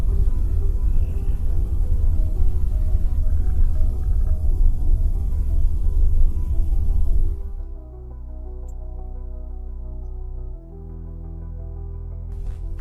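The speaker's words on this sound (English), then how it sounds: "For a moment, a low roar came from the room." A low, heavy roar fills a room on surveillance footage, loud and continuous for about seven seconds, then drops to a quieter droning hum with faint tonal traces; no voices.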